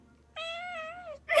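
Trevor, a pet cat, lets out one long, clear meow close to the microphone, lasting most of a second, followed by a brief noisy burst.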